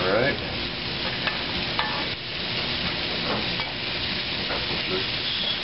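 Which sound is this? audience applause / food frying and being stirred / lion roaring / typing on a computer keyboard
food frying and being stirred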